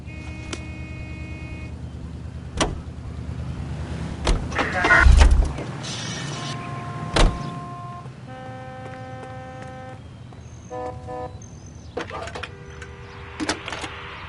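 A car in L.A. Noire starts and drives, with engine thumps, a low motor hum and mechanical clicks and whirs heard intermittently and at moderate level, with no talk.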